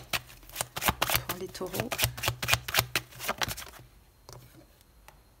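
Tarot cards being shuffled in a rapid run of crisp riffling slaps for about four seconds, close and fairly loud, with someone speaking over the start before the shuffling stops and a few soft card taps follow.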